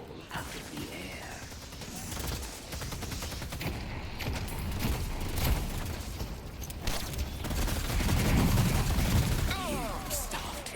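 Dense, continuous gunfire and explosive bursts in a Street Fighter 6 fighting-game match, layered and loud throughout with a voice talking over the action.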